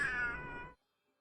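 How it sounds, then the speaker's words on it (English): A house cat gives a single clear, fairly close meow of under a second that ends abruptly into silence. "Cat came in to say hi."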